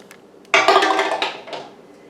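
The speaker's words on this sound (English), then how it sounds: "But I'm going to put them in my canner." Glass jars of green beans with bacon clink and knock as they go into a metal canner, a close cluster of clattering contacts that rings out and fades.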